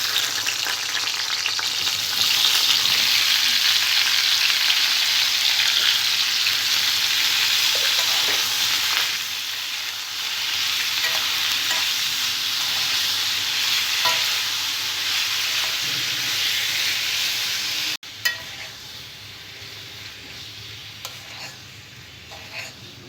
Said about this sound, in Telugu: ఇదే ఆయిల్లో పచ్చి టమాటా ముక్కలు వేసుకోవాలి